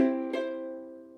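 A ukulele sounds a full down strum followed quickly by a light up stroke catching only the A string, two close plucks ringing out and fading gently in a quiet room.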